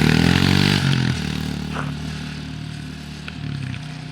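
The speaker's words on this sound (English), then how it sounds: "The mini dirt bike, folks." Mini dirt bike engine revving hard at close range, then easing off after hitting a jump, with clattering and a steadier lower idle trailing behind.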